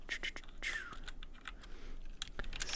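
Rapid, uneven keystrokes on a computer keyboard while entering code, close and fairly quiet, with soft breathy murmuring underneath.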